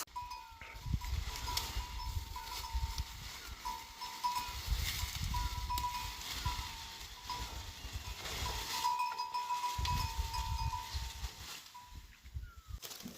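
Goats on a Pahadi village farm bleat faintly and sporadically from a distance, with a soft cowbell-like clank and low rustling in the background.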